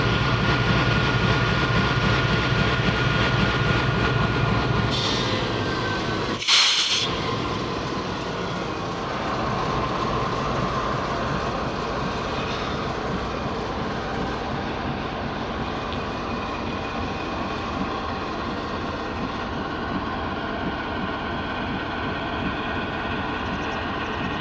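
GEU40 diesel locomotive number 9006 idling at the head of a waiting goods train at Sanawan, a steady low engine rumble that holds throughout, with a brief louder burst midway.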